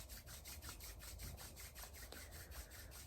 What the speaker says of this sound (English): I invite you to rub your hands together right now.